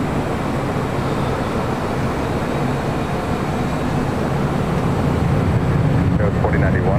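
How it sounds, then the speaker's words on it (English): Steady broadband roar of an Air Tahiti Nui Boeing 787 Dreamliner jet arriving on runway 25 left at Los Angeles International Airport, constant and fairly loud throughout, with a brief tonal whine near the end. "Air Tahiti Nui Dreamliner up next for arrival on the south side at 25 left."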